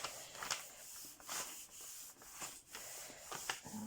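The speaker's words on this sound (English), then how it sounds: "I'll give this a good rub down so it doesn't" A diamond painting canvas is rubbed down by hand, giving soft, faint scratchy strokes in an irregular back-and-forth rhythm, close by and alone.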